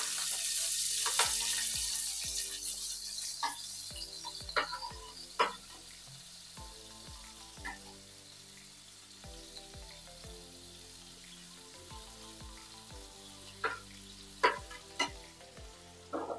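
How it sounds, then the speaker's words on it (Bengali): Vegetables, including cauliflower, potato and carrot, fry in oil in a pan for a dalia pulao, giving a soft, steady sizzle. Sharp clicks and scrapes from stirring break in at irregular intervals. "এবার সব সবজিগুলোকে ভেজে নেব।"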